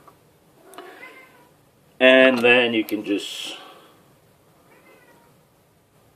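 A house cat lets out a loud, drawn-out meow at close range, followed by a couple of shorter trailing cries, while someone speaks quietly before and after.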